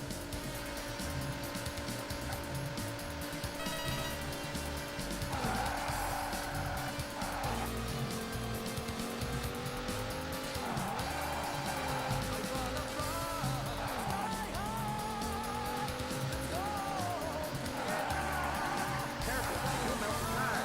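Racing car in Daytona USA on the SEGA Saturn, a constant loud engine drone with repeated rising and falling tire squeals through corners, game music playing underneath.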